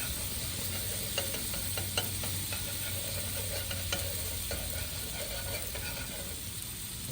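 Margarine-style spread sizzles in a pan over a camp stove, a steady close frying hiss with occasional scraping clicks of a utensil stirring.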